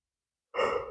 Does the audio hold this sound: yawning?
yes